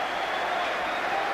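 A huge stadium crowd of over 40,000 at a rugby league Premiership final between Widnes and Hull roars in a steady, broad wash of noise with no breaks.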